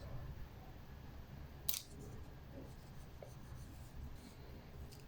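A soft 6B pencil sketches a mouth on paper with light, continuous, quiet scratching strokes, and one brief sharper scrape partway through.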